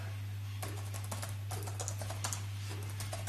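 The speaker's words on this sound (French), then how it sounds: "vous pouvez voir ce que ça donne quand on tape un texte" Typing text on the keyboard of a Lenovo G70-70 17-inch laptop, a quick run of soft, close key clicks with an irregular rhythm over a steady low hum.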